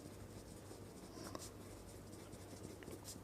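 Soft, continuous scratching of writing on a board, faint and steady against a low background hum, with a few slightly sharper strokes.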